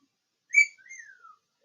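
A pet bird gives a bright whistle followed by a gliding, falling chirp, two short clean notes close by against near silence.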